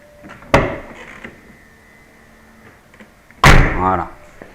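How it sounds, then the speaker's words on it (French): Door of an Audi A3 V6 opening: two loud clunks about three seconds apart, the second followed by a short humming whir, with faint rattles between. "quand on ouvre la porte"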